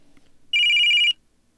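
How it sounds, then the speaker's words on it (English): A video game phone rings with a steady electronic trill, one clear burst of about half a second close and loud over a quiet room. "The phone that Kadishan used to contact you began ringing."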